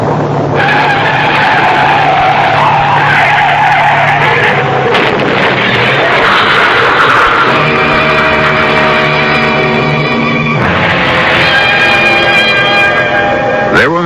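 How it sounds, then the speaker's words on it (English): A car skids with loud, sustained tire squeal and engine roar as it crashes through a guardrail in a radio drama effect, the screech shifting pitch and swelling to a harsh, prolonged peak. "Harry Clark's death from the skid that sent him hurtling through the guardrail"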